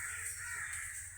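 Crows perched in a tree in windy weather give harsh, rasping caws, a couple of drawn-out calls at moderate distance over a steady airy background.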